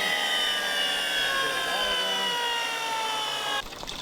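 A Clipper wet saw cuts brick for a fire pit and patio, its motor whining steadily under a constant rush of water on the spinning blade, loud and close, until the tone drops abruptly near the end.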